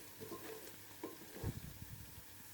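Ginger frying in a pan with oil for chicken pulao, a quiet, steady sizzle with a few soft stirring scrapes and clinks, heard alone without talk.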